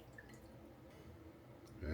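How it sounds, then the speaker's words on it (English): Warm au jus sauce poured from a pot, a faint, low trickle and light dripping of liquid, quiet and steady with a soft clunk at the end. "we'll go ahead and get our warm au jus sauce served up"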